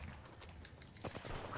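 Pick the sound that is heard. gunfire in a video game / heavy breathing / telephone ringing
gunfire in a video game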